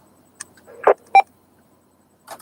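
Short electronic beeps and tones from a ham radio repeater, a few brief separate bleeps in near silence, clear and fairly loud.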